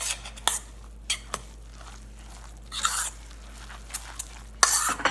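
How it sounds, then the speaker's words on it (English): A utensil stirs a cauliflower chickpea ricotta filling for zucchini ravioli in a bowl, making scattered scrapes and clinks in short bursts with quiet gaps between them, close by. "we're just gonna mix that together"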